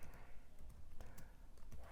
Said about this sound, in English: So I'm going to type Mpanga.